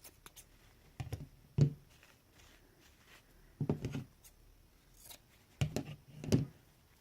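Scissors snip fabric pieces for a doll ruffle in several short bursts of crisp cuts, close and clear, with quiet gaps between them.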